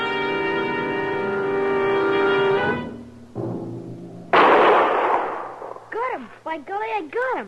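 A single loud, sharp gunshot aimed at a raccoon in a Gunsmoke western radio drama, bursting out after a stretch of sustained music and quickly followed by a voice talking.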